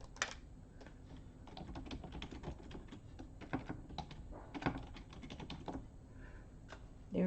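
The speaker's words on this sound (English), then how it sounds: "Let me type it in." A name is tapped out on a computer keyboard in quick, uneven bursts of light clicks and key thunks, close and fairly quiet, with short pauses between runs of keystrokes.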